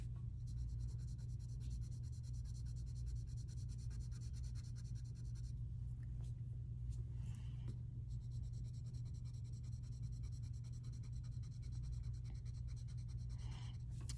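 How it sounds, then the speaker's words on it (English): Pencil shading on paper while drawing a hand, a steady soft scratching that runs continuously and faintly, with no talk over it. "I'm just slowly going around and drawing dark where I see it"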